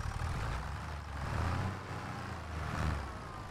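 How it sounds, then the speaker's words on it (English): Tractor engine from Farming Simulator running as a steady low diesel drone that swells and eases a few times, with no talk over it. "Why is this tractor moving?"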